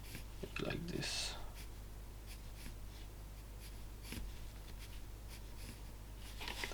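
A pencil scratches along a piece of carving wood in short, soft, repeated strokes, faint and close, while someone talks briefly near the start.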